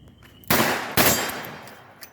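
Two sharp, loud revolver shots from a Smith & Wesson Model 66 K-frame crack in quick succession about half a second apart on an outdoor range, each followed by a brief decaying echo.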